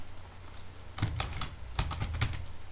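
A name being typed on a computer keyboard, with two short bursts of crisp key presses separated by a pause, close and clear against a quiet room.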